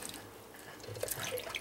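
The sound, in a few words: cultured butter squished and rinsed in water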